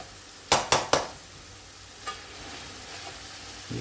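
Fish bhuna sauce bubbling in a pan over a full gas flame, three sharp stirring clatters near the start, then a steady soft sizzle with a faint tap or two.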